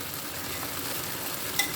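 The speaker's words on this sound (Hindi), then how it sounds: "कॉर्नफ्लावर लगाइए और आधे लीटर तकरीबन तेल के अंदर उसको आप तल लीजिए" Cornflour-coated fish fries in about half a litre of oil, giving a steady, even crackling sizzle close by with one small clink near the end and no voices.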